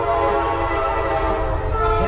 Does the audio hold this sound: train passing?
yes